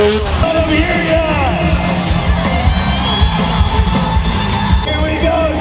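A large stadium crowd at a dirt bike show on a baseball field cheers, whoops and yells in a loud, continuous roar, with scattered shouts rising above the din throughout.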